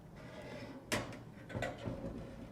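A titanium wood stove panel slides into place with two short, sharp metallic scrapes about half a second apart, close and fairly quiet against a low background hiss.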